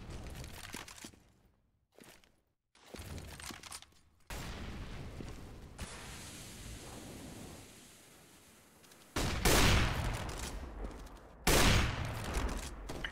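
Gunfire during a competitive Counter-Strike match on the Cache map, with sharp shots and bursts, including an AWP sniper rifle duel in the middle, loud bursts near the end over a steady background of game noise.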